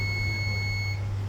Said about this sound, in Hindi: बीप साउंड दिया